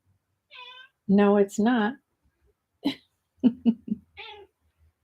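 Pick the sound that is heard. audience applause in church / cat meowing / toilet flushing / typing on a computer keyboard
cat meowing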